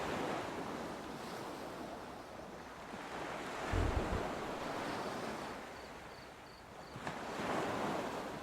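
Ocean waves at night in the game Salt 2: Shores of Gold wash in a steady roar with wind. The surf swells and recedes, rising to a heavier surge partway through.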